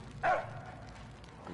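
A single short dog bark in the Mad Max video game, moderately loud over a low continuous game ambience.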